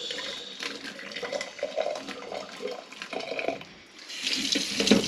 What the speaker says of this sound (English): Now I'm just washing the tomatoes